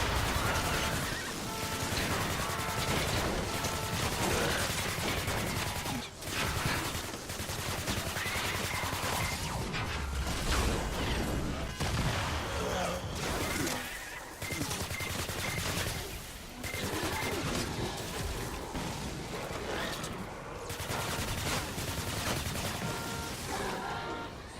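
Rapid, sustained automatic gunfire from a gun in a video game, dense bursts continuing loudly across the whole stretch with only brief dips, no talking over it.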